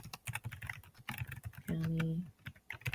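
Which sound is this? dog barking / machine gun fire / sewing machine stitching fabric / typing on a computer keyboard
typing on a computer keyboard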